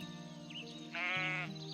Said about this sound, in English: Sheep.